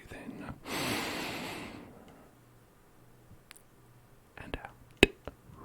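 One long, deep breath drawn in during an ASMR breathing exercise, a close, airy rush of about a second and a half, followed by quiet and a few faint clicks.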